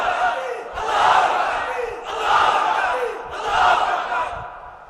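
A large crowd shouts Allahu Akbar in response to a takbir call at a Bangladeshi religious rally, three loud surging chants in even rhythm with short pauses between them.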